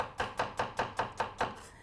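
A knife chops on a cutting board in a steady run of seven even strikes while ricotta gnocchi is prepared, moderately loud and close, with no voices.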